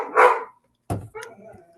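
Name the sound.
dogs barking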